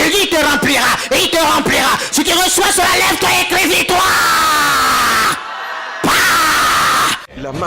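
A church congregation at a Pentecost service yells and shouts in loud, overlapping bursts, a dense crowd roar that swells and drops out briefly before surging again.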